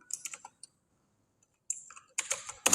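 Quick clusters of keystrokes on a computer keyboard while code is entered, close and fairly quiet, with a silent pause between an opening burst of taps and a denser flurry of clicks at the end.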